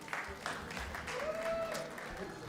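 An audience claps for the ISKCON Pandavasena kirtan group at a Gaura Purnima and Holika Dahan celebration, steady applause that stays fairly faint throughout.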